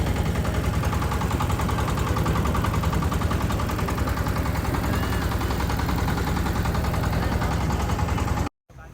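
A motorboat engine drones steadily on a river trip in the countryside on a chilly winter day, loud and close with a constant rumbling pulse, then it cuts off abruptly near the end.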